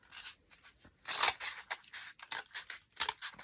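Scissors snip through a faux cinnamon stick in a run of short, crisp cuts close to the microphone, some quick and light, a few louder and sharper, with brief gaps between them.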